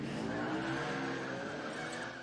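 A car drives by in the film Death Becomes Her with tires squealing in a sustained, wavering skid. A steady engine tone sits under it, quiet and somewhat distant, and fades slightly at the end.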